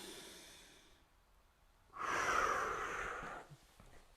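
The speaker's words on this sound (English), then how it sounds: "Kind of pushing the sternum forward toward the wall as you breathe in." Two breaths during a yoga breathing exercise done against a wall: a faint soft inhale first, then after a pause a louder, close, airy breath lasting about a second and a half, with no talking.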